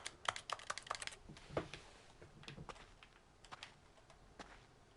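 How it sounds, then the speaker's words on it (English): A rapid flurry of keyboard typing opens the scene in The Stanley Parable's office, then thins into sparse, soft key taps over a faint background, with no one speaking. "I like that the tapping is keyboards."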